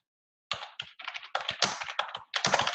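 Rapid bursts of clicking keystrokes on a computer keyboard, typed close and clear in uneven clusters with short pauses between words, no voices.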